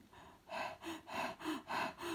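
A voice imitating a hare out of breath: after a brief pause, five rhythmic, heavy panting breaths follow in quick succession, close and fairly loud, each a breathy gasp with a slight voiced edge.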